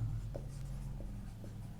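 Someone handwrites the words "at Rampura", producing a few soft, brief scratchy strokes close by over a steady low room hum, with no talking.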